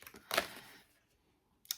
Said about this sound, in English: Just make sure I've got the cards the right way up before I start shuffling them